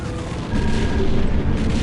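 A loud, sustained explosion rumbles through a space battle in the game Wing Commander: Prophecy, a thick low boom holding steady for nearly two seconds with no talk over it.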